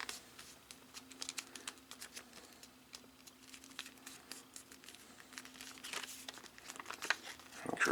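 Paper is creased and folded for an origami glider, giving soft crinkles and sharp crisp presses scattered through, close and fairly quiet, with no talking.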